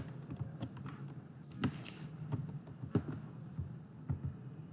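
Computer keyboard typed on at a quiet desk, irregular soft clicks and taps in short bursts, fairly close and alone.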